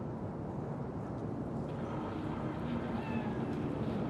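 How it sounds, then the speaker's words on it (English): A cat meows faintly in the Cyberpunk 2077 video game, soft and somewhat distant against a steady low ambient hum, with no talking. "Chill, just a cat."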